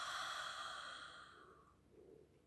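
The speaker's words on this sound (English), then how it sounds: "Take a deep inhale, a nice long deep inhale, and slowly breathe it out." A slow, deep exhale during meditation, a soft breathy rush that fades out over about two seconds in a quiet room.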